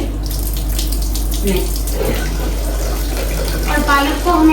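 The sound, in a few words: washing spinach under running tap water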